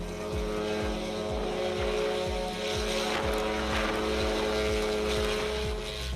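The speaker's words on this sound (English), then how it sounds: "This bike has a rotary engine with 2 screws" An Aero X hoverbike with a rotary engine and two propellers flies with a loud, continuous throbbing drone, a rhythmic low pulsing under steady whirring and wind noise.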